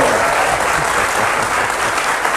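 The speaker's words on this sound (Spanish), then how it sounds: "Aplaudámoslos, de verdad." Steady, enthusiastic applause from a conference audience, filling the whole moment with dense, even clapping and no pauses.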